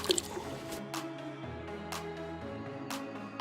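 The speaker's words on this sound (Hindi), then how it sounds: "अब धीरे धीरे करके हम इनको अंदर डालते हैं, सब्जियों को इसके अंदर।" Vegetables are lowered slowly into a tub of plain tap water, giving soft drips, splashes and sloshing close by, with a few sharper plops as pieces go in.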